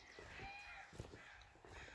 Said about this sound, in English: a lot of crows.